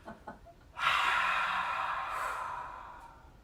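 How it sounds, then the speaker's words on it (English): A long, breathy exhale during a yoga practice, starting abruptly and trailing off slowly over a couple of seconds, close and fairly soft. "Cleansing breath."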